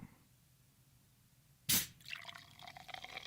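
A bottle of Jamaican country-style ginger beer soda gets a sharp, loud cap pop after a quiet stretch, followed by fizzing and liquid pouring with bubbly crackle.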